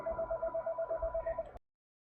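Electronic telephone ring in the Master of Magic video game, a steady pulsing tone repeating in quick bursts for about one and a half seconds, then cutting off abruptly into silence.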